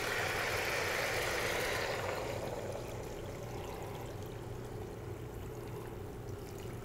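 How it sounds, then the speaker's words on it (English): About four quarts of water stream steadily into a stock pot for homemade chicken stock, a continuous close splashing pour that softens slightly partway through, with no talking. "So right now I'm just going to add about 4 quarts of water."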